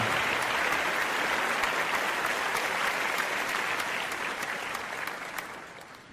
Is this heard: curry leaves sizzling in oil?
no